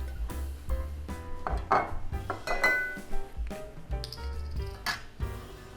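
Crushed ginger and soy sauce are mixed in a bowl, with irregular close clinks, knocks and scrapes of a utensil against the dish.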